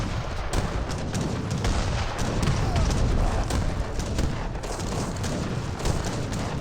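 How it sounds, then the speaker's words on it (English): Great Bombard artillery fire in the Age of Empires 3 video game, Dutch against Ottoman, during a fortress assault: dense, continuous booming cannon shots and battle clatter overlapping throughout, loud and busy, with scattered sharp impacts. "the Great Bombards getting some great hits"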